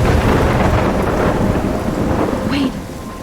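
Thunderstorm in the video game Life is Strange: heavy rain hisses loudly with a deep rolling rumble of thunder throughout, easing slightly toward the end.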